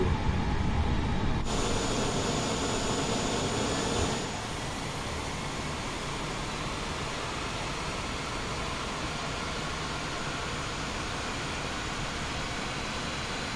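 Airbus A32NX airliner engine number 2 spooling up in a flight simulator, a steady broadband roar with a thin rising whine, louder for the first few seconds and then settling into a constant hum.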